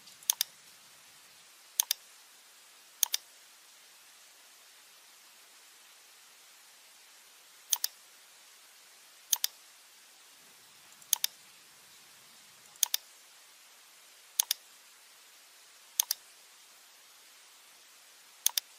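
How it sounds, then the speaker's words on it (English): Mouse clicks while selecting roof nodes for a duo pitch roof in RFEM 6 structural software, heard as sharp, isolated clicks, some in quick pairs, spaced irregularly over a quiet background. "click on the nodes of the roof."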